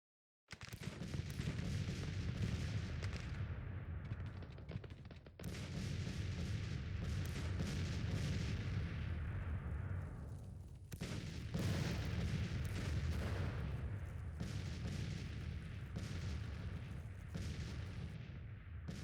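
Heavy artillery fire booms through a Civil War battle in the strategy game Grand Tactician: The Civil War. Dense, repeated cannon blasts and rolling rumble fill the battle at Gaines Mill, with a few brief lulls between loud volleys.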